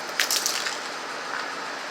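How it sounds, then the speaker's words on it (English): Ice being scraped and crunched off a car windshield in freezing upstate New York weather, a short gritty crushing scrape near the start that fades into a softer rasp. "this way the ice comes out of your windshield like this"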